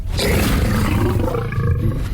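A tiger's roar, loud and close, rumbling deep and unbroken for about two seconds with nothing else heard.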